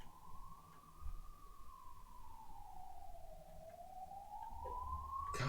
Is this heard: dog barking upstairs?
no